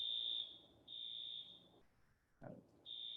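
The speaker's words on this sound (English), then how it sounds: "and got some kind of alarm going on" An electronic alarm going off during an indoor forum meeting, a steady piercing high beep sounding in long repeated blasts with short gaps, fairly faint in the room, with a brief knock or thump between blasts.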